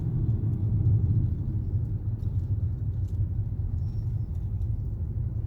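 A car rolls through the Eisenhower tunnels behind trucks in a closed-lane stretch, giving a steady, loud low roar of engine and tires that swells briefly early on and stays constant, with no voices.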